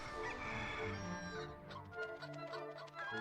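A video-game chicken in Dragon Quest X clucks and crows: one drawn-out rooster-like call followed by a string of quick, choppy clucks, clear and fairly close.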